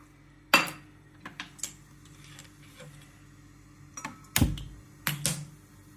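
A metal pot set down on a kitchen stove to make tea, with a few sharp clanks and clinks spread out among softer taps and rattles in a quiet kitchen.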